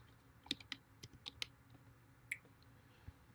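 Keys typed on a computer keyboard at a console, a handful of sharp separate clicks at an uneven pace, fairly close and quiet against a low background hum.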